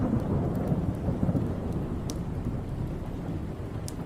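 Steady rain pours down through a growing thunderstorm, with low rumbling thunder rolling beneath the downpour and a couple of sharper cracks breaking through; the storm sounds continuous and enveloping, with no voices.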